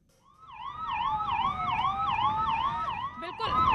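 An ambulance siren wails in a long traffic jam on the DND flyway, its rising and falling two-tone sweep repeating steadily and loud, with a low rumble of idling traffic underneath.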